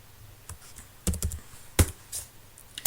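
Keystrokes on a computer keyboard while renaming a file in Amiga Workbench, a handful of sharp clacks spaced irregularly with quiet gaps between them, close and crisp with no one talking.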